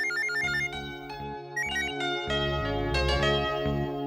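A phone plays a melodic electronic ringtone for an incoming call, bright repeating chime notes over a synth bass pattern, loud and continuous with no talking.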